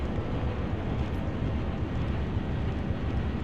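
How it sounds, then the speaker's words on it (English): A U-boat diesel engine in the game UBOAT running after startup, a dense low rumbling drone that holds steady and fairly loud throughout. "There goes the diesel engine starting up."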